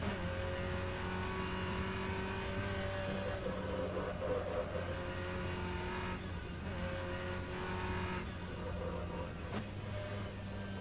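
A BMW race car in the rFactor 2 racing game drones steadily at high revs while jolting over bumps and curbs, a sustained engine tone with brief rough thumps and no talking.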